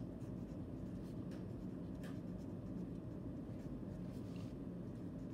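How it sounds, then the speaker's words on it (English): A sentence being written by hand during a fourth-grade grammar test session: faint, steady scratching over a constant low background rumble, with no talking. "as we finish writing that sentence"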